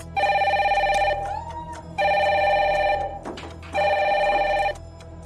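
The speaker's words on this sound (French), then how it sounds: "le téléphone rouge va pouvoir reprendre du service en cette soirée qui lui est dédiée" The red telephone on the French reality show Secret Story rings loud and close, three long electronic ring bursts separated by short gaps, with a steady low hum underneath.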